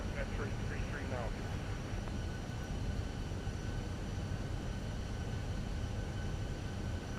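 Jet airliner engines roar steadily during a takeoff roll in a flight simulator, a dense continuous rumble with a faint whine above it, loud and unbroken, with speech over it.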